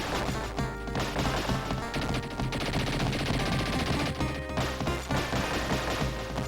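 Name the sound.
enemies shooting in TMNT Hyperstone Heist video game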